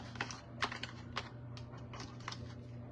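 Regular Dollar Tree craft sticks being cut by hand for a Christmas craft, giving a series of small, sharp snips and clicks spaced unevenly over a steady low hum, close and fairly quiet.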